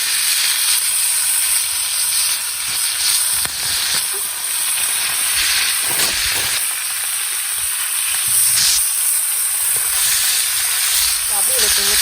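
Marinated food sizzles while cooking over a fire, giving a loud, continuous hissing crackle with scattered pops. Faint voices talk underneath.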